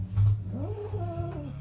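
A cat being groomed and detangled lets out a drawn-out, wavering meow close by, a complaining caterwaul over a low background hum.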